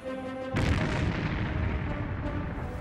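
A sudden heavy explosion as torpedo shots strike the ore-laden ship SS Munich, a deep booming blast that erupts abruptly and then rolls on as a sustained loud rumble.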